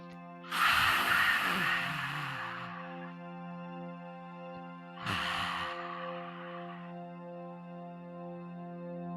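Two forceful exhales through the mouth during yoga fish pose, the first longer and the second a few seconds later, breathy and close, over a steady sustained harmonic drone from background music.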